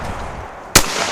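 A single shotgun shot at sporting clays cracks out sharply over steady outdoor background noise, loud and close, with a short decaying tail.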